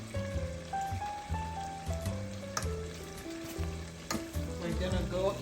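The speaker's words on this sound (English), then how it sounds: "My okra is boiling." A pot of okra stew bubbling and sizzling on the stove, a steady dense crackle running throughout with a faint tonal hum layered underneath, close and fairly loud, with no voices.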